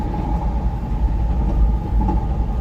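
Chicago CTA Blue Line train riding along, a steady low rumble and rolling rail noise with a faint tonal hum, continuous and fairly loud throughout, no talking.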